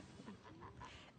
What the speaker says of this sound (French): Des oies apprivoisées, ça ne se voit pas tous les jours.